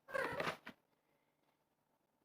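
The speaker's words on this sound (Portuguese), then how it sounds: "Chegou uma companheira aqui. A gata tá pulando aqui." A cat gives a short, close meow-like call at the start, followed by near silence and a brief faint bump at the end.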